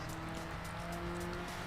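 Formula race car driven fast in the Midtown Madness 3 video game, a steady high-pitched engine whine with sustained tonal harmonics and a touch of tire noise, close and continuous throughout.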